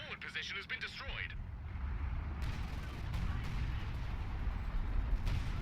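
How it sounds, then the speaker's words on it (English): Artillery fire in a World War II strategy game set in the Battle for Caen, a continuous heavy rumble of rolling barrage that swells and persists after a short burst of higher, chirping effects at the start. "We got artillery going in on the VP."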